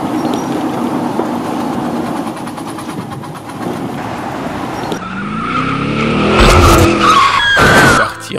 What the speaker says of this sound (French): Cette voiture a percuté la mienne.